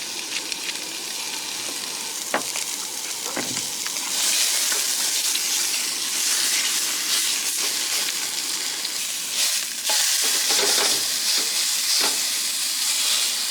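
Steak frying in a seasoned pan gives a steady, close sizzle and hiss throughout, growing louder and denser about four seconds in, with a few brief crackles and stirring noises and no talking.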